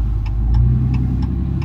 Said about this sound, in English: you gotta see all these trucks coming by